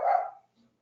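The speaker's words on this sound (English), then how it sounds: "Excuse me on that noise, sorry about that. It's my little doggy." A small pet dog gives a single sharp bark close by, cutting off quickly, followed by a faint low whimper or movement.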